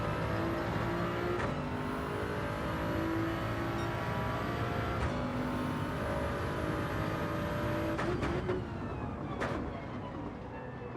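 A race car engine in Gran Turismo 7 during a test drive, a steady loud drone with shifting pitch and brief gear-change breaks, continuous throughout.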